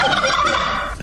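A turkey gobbles in one loud, rapid, warbling burst lasting about a second, heard alone with no talk.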